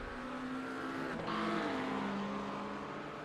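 A race car at Barber Motorsports during a USRA Round 9 race, looping around on track: a loud, steady engine whine holds, then drops sharply in pitch midway and settles into a lower drone with a faint tire scrub.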